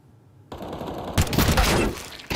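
Gunfire rings out during a professional Counter-Strike esports match, with bursts of rapid automatic shots that start after a brief quiet and rise into a loud, dense volley before a final short burst.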